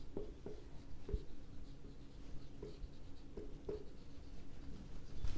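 A pen writes on paper in steady scratching strokes with short taps between them, close and continuous, and no one speaks.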